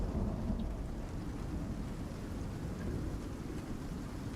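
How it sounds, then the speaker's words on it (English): A lightning storm in the video game Icarus brings a constant low rumble of thunder with heavy rain, a dense steady roar and no voices. "Granted, it's also a lightning storm, so... a thunderstorm"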